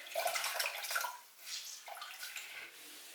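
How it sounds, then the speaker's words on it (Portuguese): Water splashing and trickling as a towel is soaked for ceramics work, a broad wet wash of running water with a short pause partway through, close and fairly loud, with no talking. "A gente molha uma toalha"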